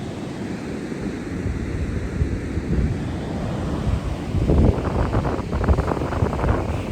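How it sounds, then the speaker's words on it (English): Big ocean waves surge and wash in along the Oregon coast near a small river mouth, a steady roar that swells louder toward the end, with wind buffeting the microphone and no voices. "big waves come in and push it back"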